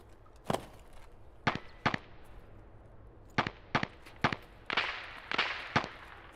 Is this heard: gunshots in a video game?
yes